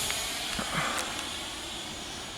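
Taft Hobby Viper Jet V3, a 1.5 m 90mm EDF model jet on 6S power, taking off with a steady loud airy whine and hiss, constant and close throughout.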